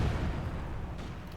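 An artillery barrage in the strategy game Company of Heroes 2 produces a loud, dense wall of rumbling booms and crackling blasts that runs without a break for the whole short stretch.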